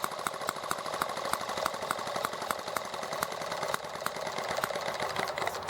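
A small engine idling at low speed during carburetor needle adjustment, a fast, even buzzing putter with regular firing pulses running steadily and close throughout.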